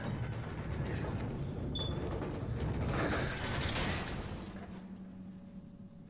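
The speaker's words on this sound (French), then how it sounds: "Traversons cette porte." A door mechanism opening in Resident Evil Revelations 2, a grinding ratcheting of gears and pulleys with creaks and a sliding clunk, close and moderately loud, fading into a low hum at the end.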